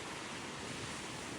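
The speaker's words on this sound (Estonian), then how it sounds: "Vaadake, kuidas see vesi lihtsalt lööb." Waves break on a beach near Canberra: a loud, steady wash of surf roar mixed with wind buffeting the microphone, with no voices.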